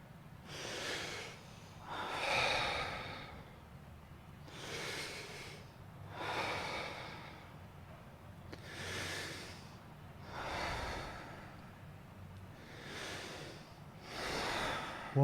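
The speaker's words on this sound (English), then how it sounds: "In through your mouth, out through your mouth." Rhythmic charged breathing in and out through the mouth during a guided breathwork session, about seven strong breaths with soft exhales, each a breathy rush repeating every two seconds or so, close and steady with no talking.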